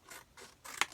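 Scissors cut through packaging paper near at hand, a few soft crisp snips building to one sharp louder cut near the end, quiet and alone.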